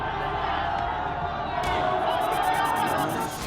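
A crowd of protesters marching through Islamabad toward the French embassy makes a dense, loud roar of many voices that holds steady throughout, with scattered shouts rising out of the mass.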